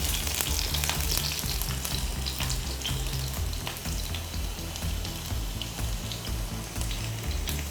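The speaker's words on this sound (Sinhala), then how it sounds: "තෙල් ටිකත් රත් වීගෙන එනකොට කපාගත්ත සුදු ලුණු ටික දා ගන්නවා." Chopped garlic sizzles and crackles loudly in hot oil in a pan, a steady dense frying hiss with occasional stirring sounds and no talk.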